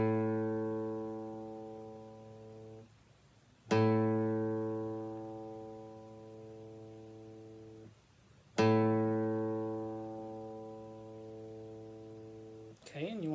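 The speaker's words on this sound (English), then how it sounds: "Want your A to sound like this." Three plucks of a guitar's A string, each note sustaining for several seconds and fading gradually before the next, with faint handling noise near the end.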